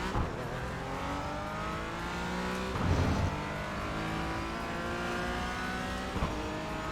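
A race car in the iRacing sim game revs and climbs through the gears in repeated rising sweeps, with brief bursts of louder roar and tire noise, the engine whine continuous and fairly close throughout.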